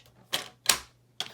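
A scoring tool is pressed along paper on a scoring board, making three sharp, separate clicking scrapes spaced at an uneven pace in a quiet room.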